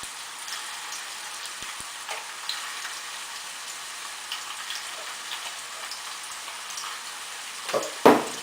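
Small chicken meatballs fry in a pan with a soft, steady sizzle and faint crackle, ending with a couple of louder clatters near the end.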